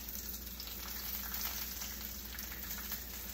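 Bacon frying in a pan, a constant close crackling sizzle with fine popping and no voices over it.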